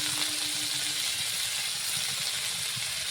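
Vegetables for a village-style Bengali stir-fry of ghatkol stalks, potato and bori sizzle in hot oil in a pan, a steady loud hiss that fills the whole moment, with no one talking.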